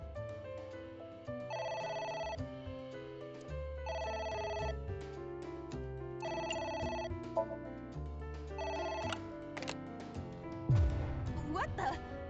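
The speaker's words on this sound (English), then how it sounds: "A phone. Should I pick it up?" A telephone rings in the video game AI: The Somnium Files, a repeating melodic electronic ringtone of bright chiming bursts over the game's background sound, ending in a louder jumble of noise.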